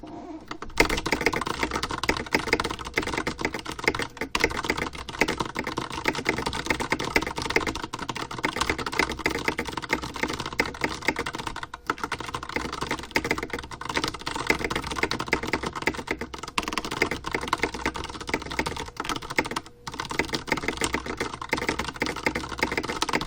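Fast, continuous typing on a computer keyboard, close and loud, with dense rapid keystrokes running throughout and only a few brief pauses.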